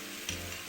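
Instant noodles with canned diced meat, fresh red chili, oyster sauce and soy sauce are stir-fried over high heat, a brief close sizzle with a faint stir in the middle.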